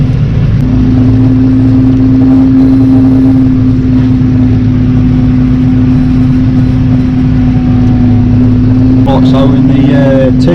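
A T6030 tractor pulling an 18 metre Amazon UF 1200 sprayer runs with a loud, steady engine drone and a constant tonal hum, heard close up, with faint rattles near the end.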